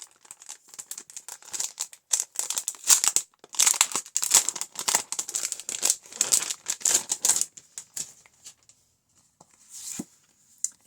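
A pack of assorted ephemera papers is handled close by, with rapid crinkling, rustling and flicking of sheets in irregular bursts, then a few sparse taps near the end.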